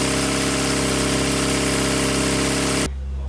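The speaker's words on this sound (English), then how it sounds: "the engine's actually working" A Classic Mini 1380 engine runs steadily under load with the throttle held open, a dense, loud mechanical drone that cuts off sharply near the end.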